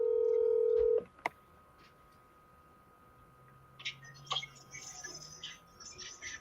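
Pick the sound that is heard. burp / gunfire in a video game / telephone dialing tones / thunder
telephone dialing tones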